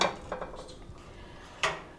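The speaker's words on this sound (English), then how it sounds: "So I'm just gonna add that to my deeper cooking pot" Sautéed vegetables for bulgur jollof are tipped into a deeper cooking pot, giving a few close clattering knocks of metal and utensil, with one sharper clank near the end and no talking.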